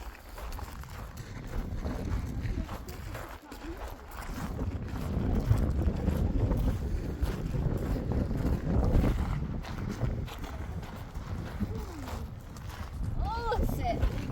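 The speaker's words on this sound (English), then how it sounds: "Ah, it's a gradual wind." Gusting wind on a volcano buffets the microphone in a rough, roaring rush that swells and eases for several seconds, with voices talking intermittently beneath it.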